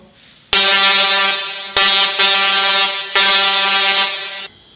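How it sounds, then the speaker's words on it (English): A Tesla coil's sparks pulsed 98 times a second sound a loud buzzing G note, played alone in three sustained bursts with brief breaks between them. "So turning it on and off at 98 times a second,"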